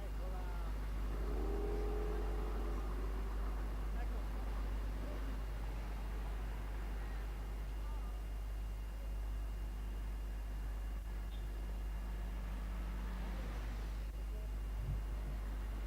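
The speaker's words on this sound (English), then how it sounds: "we can note the intense traffic along Whitehall, the double-deckers and the great numbers of tourists" Busy street traffic along Whitehall in London, including double-decker buses: a continuous low rumble of engines with vehicles passing and accelerating at a moderate distance, and voices faintly mixed in.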